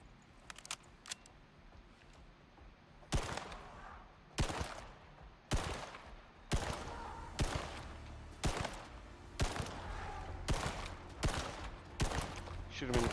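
Video game gunfire in Icarus: a string of sharp, loud shots in irregular bursts, sparse at first, then dense and steady, with occasional talk in the background.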